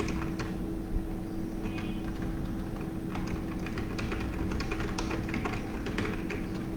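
Steady, fast typing on a computer keyboard while writing HTML code: dense, close key clicks run throughout over a faint low hum, with no talking.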